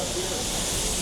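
Steam exhaust from old steam-driven water pumps at a sorghum-making operation, a loud, steady, close hiss of escaping steam, unbroken for the whole moment.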